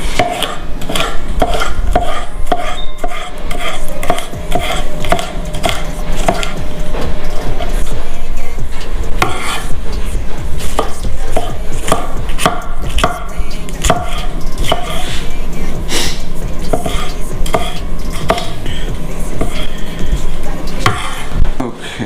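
A knife cuts food in half on a cutting board with rapid, continuous rhythmic chopping knocks. The sound stays close and loud throughout.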